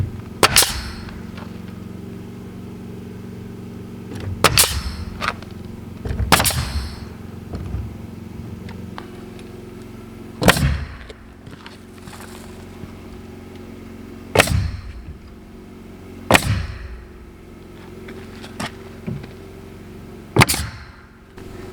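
Nail gun firing into ZIP board sheathing on a house build, sharp loud shots spaced several seconds apart, some in quick double bursts, with quiet background between.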